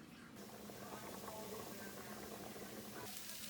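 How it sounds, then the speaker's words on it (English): Celery and onion sizzle in a pan used earlier to cook the meat, a steady close hiss and crackle for the whole stretch, with faint low kitchen sounds underneath. "I'm going to go ahead and saute these together in the pan that I cooked the meat in"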